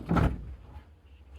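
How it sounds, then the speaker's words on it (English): A cabinet door in an abandoned mansion is pulled open with one short, close wooden knock and scrape, followed by quiet room tone and a faint click. "Let's check some of the cabinets."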